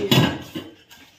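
Spoons clink together as they are sorted and cleaned in a home kitchen, giving a few sharp, close metallic rattles in quick succession, with no voices.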